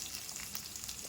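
Mustard and other tempering seeds, slit green chillies and curry leaves sizzle in hot oil, a soft, steady crackle heard faintly and without talking.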